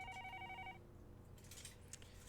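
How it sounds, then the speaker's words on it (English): A telephone rings in the Higurashi visual novel, a bright electronic bell repeating in short bursts over a steady background hum, then it stops and a few faint clicks follow. "The next moment, the phone rang."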